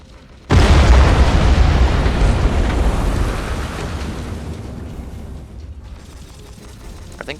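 A barrage of explosions erupts in the Battlefleet Gothic Armada 2 space battle, one loud sudden blast followed by a dense roaring rumble that slowly fades over several seconds.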